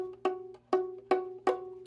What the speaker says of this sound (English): F sharp sounds like this.